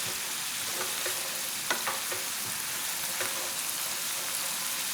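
Wine bubbling and hissing in a hot pan while cooking bolognese, the alcohol cooking off: a steady dense sizzle with a few sharper stirring clicks, close and continuous, no voices.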